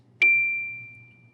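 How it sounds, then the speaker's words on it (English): A single high D struck on the shorter key of a set of bells rings out once with a bright attack, then a pure, steady tone decays slowly over about a second, alone and close. "This is the D that is towards the higher part of the bells, so it's the shorter D key as opposed to the longer D key."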